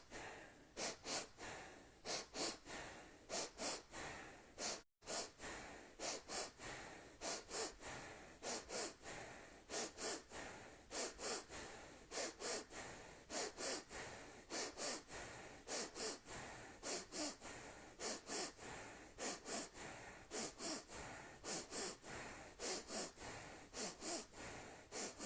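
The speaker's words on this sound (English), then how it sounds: "we will do the breath of fire, starting now" Rapid breath of fire breathing exercise: a long, steady run of quick, forceful nasal exhalations in an even rhythm, close and clear, with one brief pause early on and no talking.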